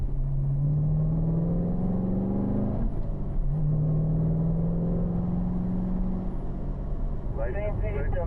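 Corvette engine on a track run, a droning rumble whose pitch climbs steadily, dips at a gear change, then rises again in fourth gear; close, loud and continuous, with talk over it near the end.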